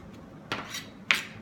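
A knife chopping lemon thyme and regular thyme on a cutting board, two sharp close knocks about half a second apart over quiet background, no talk.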